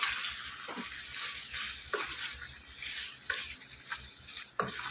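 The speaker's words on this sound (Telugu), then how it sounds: "ఇప్పుడు వీటిని బాగా మిక్స్ చేసుకోవాలి" Cumin powder and halved green chillies are stirred in a hot pan, a steady sizzle with repeated scraping spoon strokes every second or so, close and alone.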